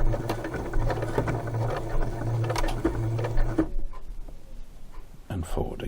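A sewing machine stitching quilt fabric in the ditch runs in a steady close whir for a few seconds, then stops, while a voice talks over it.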